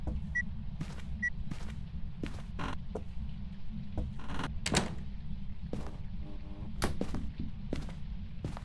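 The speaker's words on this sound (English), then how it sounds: "You knocked on this window." Sharp knocks on a window from a ghost in the horror game Phasmophobia, several isolated raps spread irregularly over a low droning room background, fairly faint and distant.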